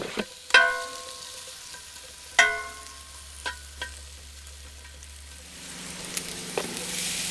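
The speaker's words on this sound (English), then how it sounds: "Got the sausage brown, I'm gonna dump it in here. And cook the potatoes." Sausage, potatoes and green pepper sizzle in a pan at an overland campsite, with a quiet steady frying hiss broken by a couple of sharp metallic clanks and scrapes of stirring, close by with no talk.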